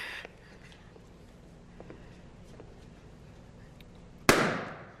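A balloon pops with one sharp, loud burst near the end, after a stretch of quiet room tone with faint background talk.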